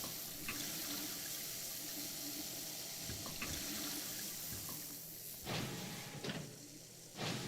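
Running tap water in the video game Prey, a steady close splash and gush that continues throughout, with a few short clunks and knocks near the end.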